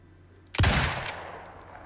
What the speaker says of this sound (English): Let's see what this hunting rifle can do.